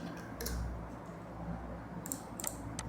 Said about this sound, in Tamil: கூகுளில் வந்து பார்த்தீங்க அப்படின்னா Pycharm அப்படின்னு சொல்லி டைப் பண்ணிக்கோங்க